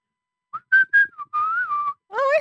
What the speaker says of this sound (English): Yes, I have tried to whistle into these mics.